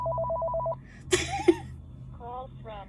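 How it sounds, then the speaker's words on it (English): Phone ringing during home recording, a short electronic ring burst at the start, then brief speech, followed by a couple of fainter warbling ring tones. "what is with the phone ringing through my videos?"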